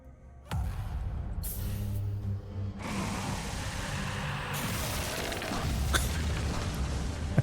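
Enemies blowing up in the Hellslave 2 action game: a sudden loud boom followed by sustained rumbling blasts and crackling effects, with further bursts toward the end.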